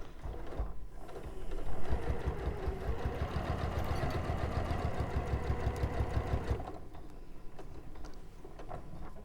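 A sewing machine stitches a seam in quilting fabric at a long stitch length, running in a fast, steady mechanical chatter for several seconds before stopping, close and loud with no talk.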